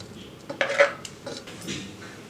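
Homemade paneer being cut with a knife in a home kitchen, a few soft clinks and taps against a plate or board, short and close with quiet room tone between.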